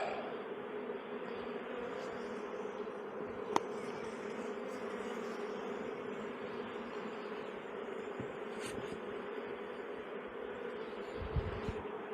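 Bees buzz steadily around a beehive, a dense, continuous hum of many insects close by, with a few individual bees droning louder as they pass near.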